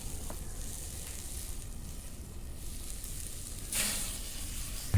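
Ground beef sizzles steadily in a skillet set over a hot fire pit while it is stirred, a constant close frying hiss with a brief louder scrape or crackle near the end.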